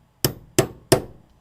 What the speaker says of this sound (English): And then you use the hammer